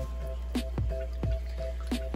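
Water sloshes and drips while being rinsed and dumped out of a frozen fish food tray, with a few soft, wet squishing splashes spaced irregularly over a steady low hum.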